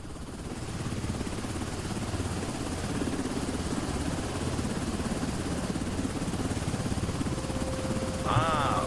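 Steady helicopter engine and rotor drone from the Quarantine Zone video game, loud and continuous throughout with no break in the rhythm, and a brief electronic chirp or tone rising above it near the end.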